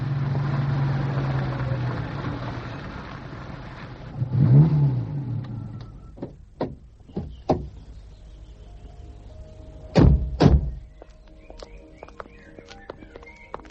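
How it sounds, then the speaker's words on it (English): A late-model Porsche engine runs with a steady rumbling drone for a few seconds, then falls quiet, followed by several sharp, close knocks and clunks in a radio drama scene. "Whose is the car? A Porsche, one of the latest."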